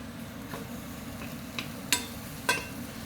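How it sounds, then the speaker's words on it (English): Mushrooms fry in oil in a pan, a faint, soft sizzle beneath a few sharp clinks and scrapes of a spoon against the pan. "I'll just spoon a little bit of this oil over these mushrooms."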